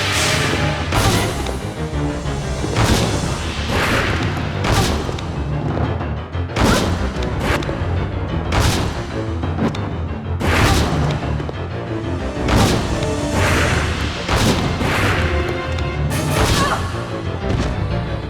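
A Colt Python fires repeatedly in Resident Evil Survivor 2: Code: Veronica during the boss fight against Alexia Ashford, with loud booming shots at irregular intervals over dense game noise and music throughout.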